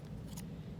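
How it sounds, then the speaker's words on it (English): Scissors cut paper while making a tree shape, giving a short, faint, close snip against a quiet room hum. "Something else you could do is take a pair of scissors"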